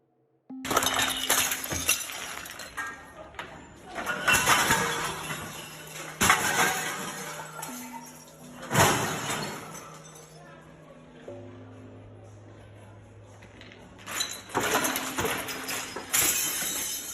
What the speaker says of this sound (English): just started smashing everything he could get his hands on in the Sono collection within the department store